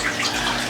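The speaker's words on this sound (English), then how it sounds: "It gives a nice little waterfall effect till it ran out of water" Aquarium filter pump spilling water over a small waterfall feature, a steady close splashing trickle that runs unbroken for under a second with no talk.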